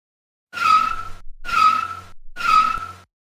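Car wheels spin and whine in snow in three separate bursts, each lasting about half a second with short silent gaps between them, the car stuck.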